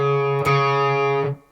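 A single sustained electric guitar note with a quick third-finger slide down to the 4th fret partway through, then a brief picked note before it cuts off.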